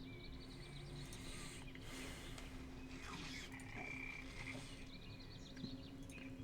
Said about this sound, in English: Aha, there's a dire toad.